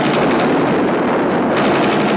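Dense, continuous machine gun fire from a sheriff's department raid in the horror film Eaten Alive, a loud sustained roar of rapid shots with no pauses and no voices.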